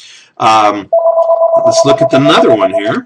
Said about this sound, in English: Sorry about that phone